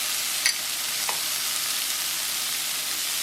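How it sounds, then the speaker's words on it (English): Frozen green peas stirred in a pan with a steady broadband hiss and a few faint scraping clicks, close and continuous, with no talking. "Here I am using 3 cups of frozen green peas. So just stir it."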